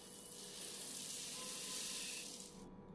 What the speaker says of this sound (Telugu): ఇప్పుడు వేయించిన మెంతులు వేస్తున్నా